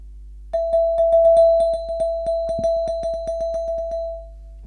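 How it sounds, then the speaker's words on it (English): A chime bar, a pitched metal bar, sustains one clear bright ringing tone for several seconds, overlaid by a steady series of soft rhythmic taps before the tone fades. "Or it could have been a chime bar."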